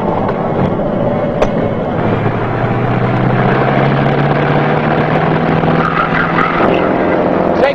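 Steady drone of a light aircraft engine as it makes a normal approach and landing at a high-altitude mountain airstrip, continuous and fairly loud with a wavering low hum running throughout, no voices.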